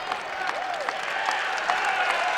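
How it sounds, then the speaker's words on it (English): A college wrestling crowd applauds and cheers after a 133-pound match win, a broad sustained wash of clapping in an arena with a few faint shouts rising over it. "So the crowd now is alive after the big win there for the second-ranked Nathan Tomasello."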